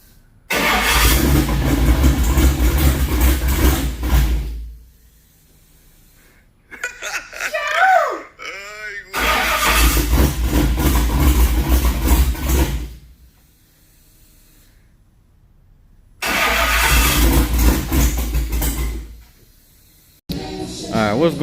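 A turbocharged car engine on its first startup, heard in three loud bursts of running and revving separated by quiet gaps, with voices and laughter between the bursts.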